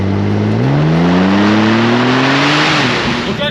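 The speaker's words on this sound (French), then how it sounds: "vu comment le véhicule ne s'arrête pas à l'accélération, les turbos, on a l'impression qu'ils sont tout le temps pleine charge" An 800 hp turbocharged sports car, one of only 87 built, accelerating hard: a loud, steady engine drone climbs smoothly in pitch through the gears, close and continuous.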